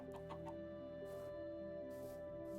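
Minecraft chickens make short, soft clucks that come in small bunches over a steady synthetic drone of game music, faint and with no speech.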